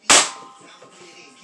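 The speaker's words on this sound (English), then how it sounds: "Last shot, the Nerf rival round." A Dart Zone Balistix Ops ball blaster fires a Nerf Rival round: one sharp, bright crack with a metallic ring, close and loud, then a long fading tail and faint room noise.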